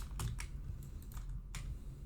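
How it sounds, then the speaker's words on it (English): Keys on a computer keyboard are tapped in a quick, irregular run of separate clicks, close but fairly quiet, with no talking. "I hear you typing."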